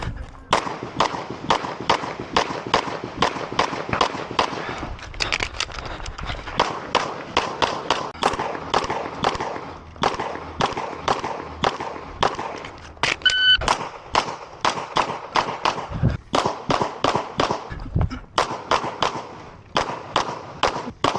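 Rapid sharp gunshots ring out in quick strings and bursts at a USPSA classifier match in competitive pistol shooting, loud and close, with short pauses between strings and an occasional beep.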